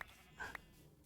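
Sheep in the Minecraft video game give a couple of short, quiet bleats in quick succession over low background ambience.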